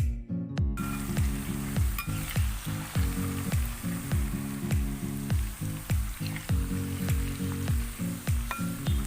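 Jackfruit chips fry in hot oil, giving a steady close sizzle with repeated scraping stirs and light clinks of a utensil against the pan in a regular rhythm, with no talking.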